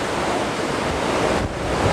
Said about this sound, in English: Can you hear the wind? Whoa, it's just howling.